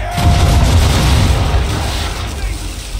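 Ship cannons fire a broadside in Assassin's Creed III, a loud, deep booming blast that rolls and rumbles away, with voices in the mix.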